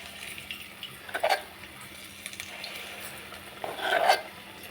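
Bajji batter dropped from a spoon into hot oil, giving two short bursts of sizzling and spoon scraping against a pan, the louder near the end, over a quiet kitchen background.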